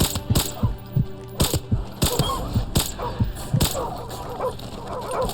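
Several dogs bark in sharp, close bursts, repeated a half-dozen times, during the Chernobyl sniper mission of Call of Duty Modern Warfare Remastered, layered over clanking game effects and a low background hum.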